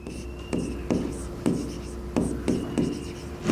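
Pen or chalk strokes scratching out a vectors problem during a Class 12 maths lesson, sharp taps and scrapes in an irregular rhythm, with a voice speaking quietly underneath.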